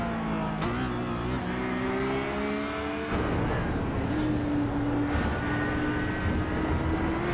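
An Audi GT3 race car at the Nürburgring GP is worked hard through the final turn, its engine note climbing through revs, cutting abruptly at a shift, then rising again as the car pulls away loud and close.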